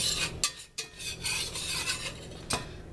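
A spoon scrapes and stirs banana pudding mixture in a pan that has not heated up yet, with steady rubbing strokes and a few sharper clinks against the metal, close and fairly loud with no talking.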